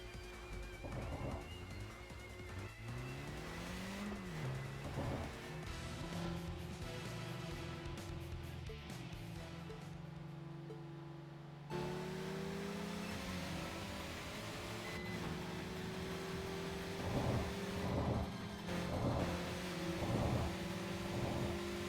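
Cars driving in the street-racing game TXR 2025, with steady engine drones that pitch up and down through gear changes and a sudden jump in engine tone partway through. No talk is heard.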